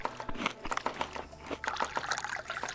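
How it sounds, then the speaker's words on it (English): Thick, chunky tea pours in Dave the Diver, a cartoonish liquid trickle and dribble with small splashy bursts. It sits mid-level with no talk over it. "Now we gotta pour some really chunky tea."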